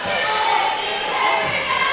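Crowd murmur and cheering fill an indoor arena during a high school basketball game in Stuttgart, a steady loud roar with scattered shouts throughout.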